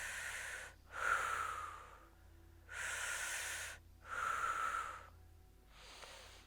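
Close, audible breaths during a chair yoga pelvic floor hold: four airy inhale and exhale bursts with short pauses between them, the last one softer.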